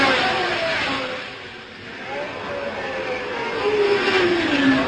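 1971 Formula 1 race cars at Zandvoort, the Dutch Grand Prix, passing through a slippery curve after the Tarzan bend: engines drone from a distance, dip, then rise again in a rising, sweeping whine as a car approaches.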